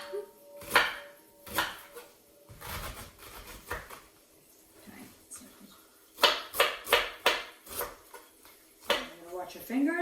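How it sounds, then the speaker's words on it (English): A knife slices through a head of cabbage on a cutting board, giving a series of crisp chopping strokes in irregular clusters, close up, with someone talking softly in between. "I'm going to go ahead and slice that up"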